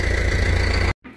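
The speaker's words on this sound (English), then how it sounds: "it's a whole lot easier using the tractor to carry the buggy over from that dairy barn" A tractor engine idles in a steady, loud, near drone with a mid-pitched hum, cutting off abruptly near the end before a faint rumble returns.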